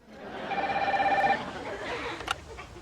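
A telephone rings in a Seinfeld scene, a single trilling electronic ring lasting under a second over a noisy background, then a short click.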